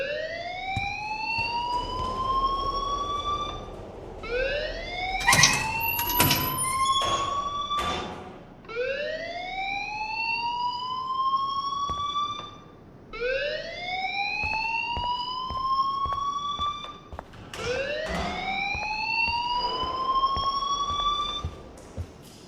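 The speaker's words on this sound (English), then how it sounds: "please turn off that alarm since that's your job" A video game alarm in Life Is Strange: Before the Storm wails in repeating rising whoops. The cycles are loud and steady, broken by a few sharp clatters, with no voices.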